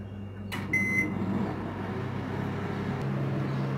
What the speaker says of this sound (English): let's preheat the oven. I am preheating it to 180 degrees centigrade